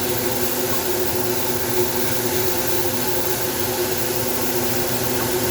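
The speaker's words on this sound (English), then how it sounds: "Turn the fan on." A kitchen stove's range hood fan runs steadily at a constant loud whoosh with a low hum and faint tonal whine, uninterrupted for the whole stretch while chorizo, eggs and hashbrowns cook below.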